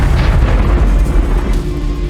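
Tabletop-game explosion that sends a huge jet of fire into a room after a figure falls through blast walls, heard as a loud, sustained low rumbling roar with no distinct onset, dense and close.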